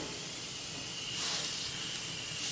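Venison backstrap searing on a grill over low heat, a steady broad sizzling hiss that swells slightly midway, close and continuous with no talk.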